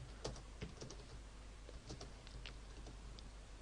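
Keys tap on a computer keyboard, close but faint, in a loose, irregular rhythm of single strokes and short clusters over a quiet hum, with no voices.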